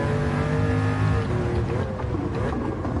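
A 1961 Ferrari 250 GT engine accelerates hard, a loud, steady, close roar with layered harmonics that shift in pitch as the revs change, with no voices.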